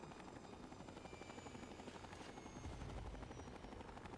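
Helicopter in the video game Fallout 3, a steady rapid rotor chop with a low engine drone, continuous and fairly close, swelling slightly near the end, with no speech.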